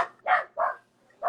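A dog gives three short, sharp barks in an even rhythm, fairly close, with quiet gaps between them.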